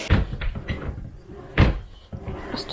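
A wardrobe door in a bedroom being opened and shut, with several knocking bumps and a heavier thud midway, close and fairly loud, followed by a softer final clunk.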